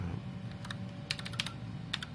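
Keys clatter on a computer keyboard as a short folder name is typed, a quick irregular run of soft, close clicks in a quiet room.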